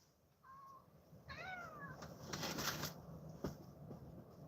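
A house cat meows a few times, fairly close, in short rising and falling calls over a low room hum, with some shuffling noise after the calls.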